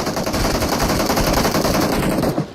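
Rapid automatic gunfire in PUBG Mobile during a hot drop, a loud continuous rattling stream of close shots for about two seconds before cutting off.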